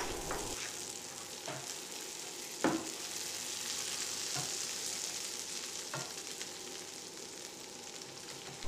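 Garlic, chili flakes and parsley sauté in butter for a steak sauce, a continuous close sizzling hiss punctuated by several sharp taps and scrapes of a spoon in the pan.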